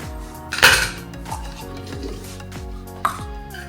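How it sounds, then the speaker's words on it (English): An old piece of bamboo scrapes and knocks through tile stone mix in a container, with one loud clatter near the start, a sharper knock toward the end and steady grinding scrapes between, close by with no talk. "I've not got anything to mix it up with, and I don't want to use the new spoons we've recently brought, so instead, an old piece of bamboo."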